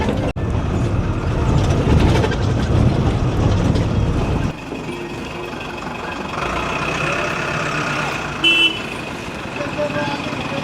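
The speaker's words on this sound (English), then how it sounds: "There goes the bus, crazy ass bus." A rickety Himalayan bus in Nepal grinds away with a loud rumbling engine that drops off partway through and fades to a lower drone, with a short horn-like toot near the end.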